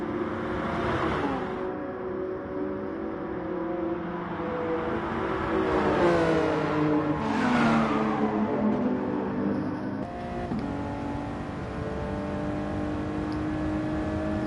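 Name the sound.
Toyota and Jaguar race cars drag racing, from a video game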